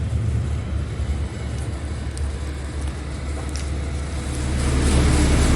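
A volumetric concrete mixer runs on a telly truck, giving a steady, loud, low mechanical rumble and drone that swells slightly toward the end, with no voices.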